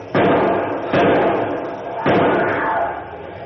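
A heavy safety door in a radio drama, three loud, booming metallic thuds spaced about a second apart, each followed by a reverberant rumble, with no voices over them.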